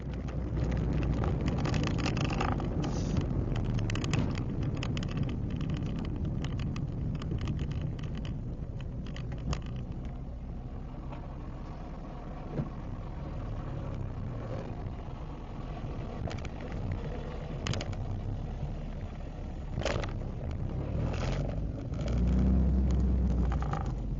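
Street traffic with cars driving past in a zone known for speeding, a steady broadband roar of passing vehicles with occasional louder swells, no voices.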